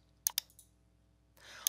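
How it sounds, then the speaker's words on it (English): Two sharp computer mouse clicks close together near the start, followed by a faint pause and a brief later click amid light rustle, as a drop-down arrow in a form is clicked. "So if I click this little down arrow"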